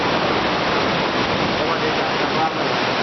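Sea waves surge steadily into the Cova dels Arcs, a coastal sea cave at Cala dels Testos, filling the space with a dense, continuous roaring wash that swells slightly midway, loud and close with no break.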